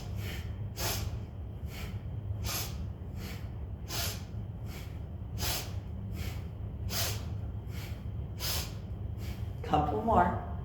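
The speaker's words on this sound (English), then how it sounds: "Let your breath be heard." Forceful, audible breathing during a kapha-balancing yoga practice: sharp nasal breaths repeat in a quick, steady rhythm over a low background rumble, ending in a louder, rougher exhale.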